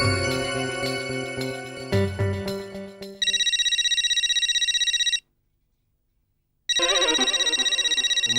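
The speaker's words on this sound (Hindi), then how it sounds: "उमाताई का फोन?" A telephone rings in a household scene, first with a few chiming tones and then a loud, repeating electronic ring that stops for a moment and starts again.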